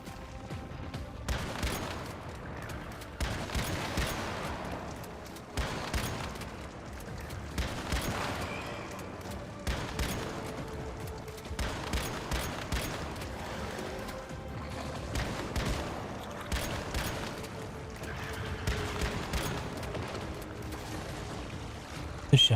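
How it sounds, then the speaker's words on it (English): Shotgun blasts in the survival shooter Once Human, heavy booming shots repeated at an irregular steady pace over a continuous rumbling game soundscape, loud and dense throughout. "This shotgun is so good."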